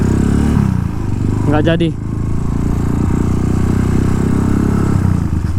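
A motorcycle engine runs steadily and close while riding through Dalung to Kerobokan, Bali, in the late afternoon, with a brief spoken exchange over the continuous low drone.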